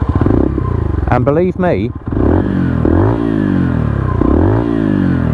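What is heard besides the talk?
AJS Desert Scrambler 71 motorcycle engine starting and revving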